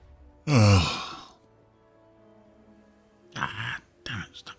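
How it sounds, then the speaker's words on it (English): A person gives one drawn-out, voiced yawn lasting under a second, close and fairly loud, followed after a quiet pause by a few softer breathy vocal sounds. "Ah, damn it, stop yawning."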